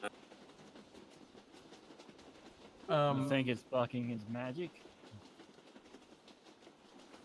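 A rolling train sound effect, a steady rumble with faint clickety-clack of railcars, runs under a tabletop role-play game scene while people talk over it in the middle of the clip.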